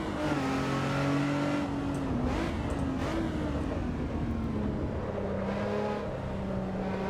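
Race car engine from the Assetto Corsa EVO racing game on the Donington GP circuit, a steady loud drone whose pitch rises and dips with throttle and shifts, running continuously and close throughout.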